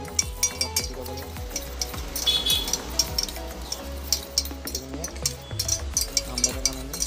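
Eggs are whisked with a pinch of turmeric for an omelette, giving a steady run of quick clinking strokes against a bowl, close and fairly loud, with kitchen clatter around them.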